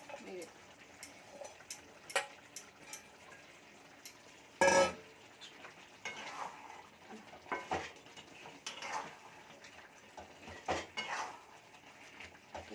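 Large pieces of katla fish, 1.2 kilos in all, drop one after another into a pan of spicy Bengali gravy, making sharp metallic clinks and soft plops over a faint sizzle, with someone talking between them.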